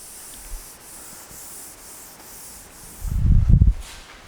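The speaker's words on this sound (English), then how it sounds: "So now I will rub it off." Eraser or duster rubbing writing off a board in an engineering lecture room, a steady scrubbing burst of a few strokes near the end, close and fairly loud after a quiet stretch.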